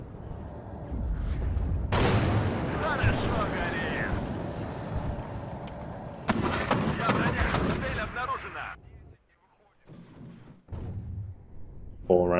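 Vasilek automatic mortars fire in the WARNO strategy game, giving heavy booming blasts in two sustained volleys with rumbling tails, then a sudden near-silence and another burst at the end.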